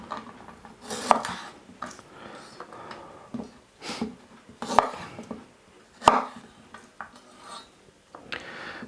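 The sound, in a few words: knife trimming ginger chunks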